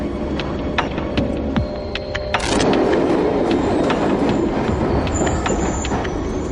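A passenger train runs on its rails with a steady low rumble and rolling hum, the noise rising into a fuller roar midway and holding there.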